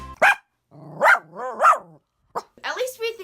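Lacey, a small pet dog, barks in short sharp yips and a few drawn-out whining barks close by, with pauses between bursts.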